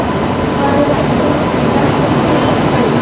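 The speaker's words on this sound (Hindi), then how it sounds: "चलिए क्षमता एक्सप्रेस का अराइवल हो रहा है।" The Kshamta Express pulls into Jhansi railway station as a loud, close, continuous rumble of rolling wagons and wheels that holds steady throughout, with no talk over it.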